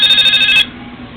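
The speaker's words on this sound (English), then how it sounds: "Oops, got a phone call." A mobile phone's incoming-call ringtone plays loudly for about half a second in quick bright pulses, then cuts off abruptly, leaving a quiet room.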